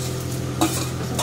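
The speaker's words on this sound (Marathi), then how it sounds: "आता हा मसाला आपण याच्यामध्ये भाजून घ्यायचा, तळून तळून" Masala spices frying in oil in a pan, a steady soft sizzle with a brief scrape of stirring, close and continuous with no talking.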